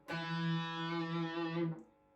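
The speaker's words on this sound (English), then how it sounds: "We then flatten that second finger and play D2." A single distorted electric guitar note, D fretted at the second fret, rings out steadily for under two seconds, then is cut off.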